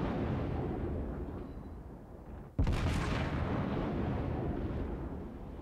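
A ship's guns fire at an island in a naval video game, one sudden heavy boom cutting through steady rumbling background noise, loud and close, with no talking.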